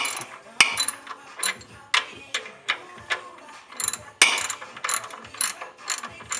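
Oil pan drain plug on a car being tightened with a ratchet wrench, a series of sharp, close clicking bursts in an uneven rhythm with brief pauses between strokes, no talking.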